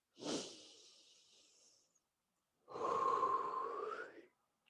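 Slow breathing during a wall yoga hip stretch: a sharp inhale that trails into a long exhale, a pause, then another long, audible breath, close and quiet with no talk.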